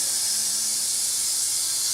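A voice makes a long, steady hissing S sound in imitation of a steam locomotive venting steam, an unbroken, even breathy hiss lasting about two seconds.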